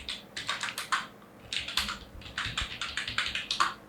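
Rapid clicking of keys on a computer keyboard as code is typed, bursts of quick keystrokes separated by short pauses, close and crisp.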